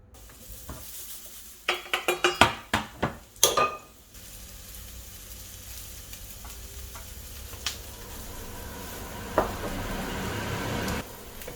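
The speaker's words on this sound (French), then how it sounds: "On va commencer tout de suite par faire revenir les oignons" Onions sauté in a pan at home: a burst of sharp utensil clinks and scrapes against the pan opens, then a steady sizzle builds and holds with occasional stirring knocks, no talking.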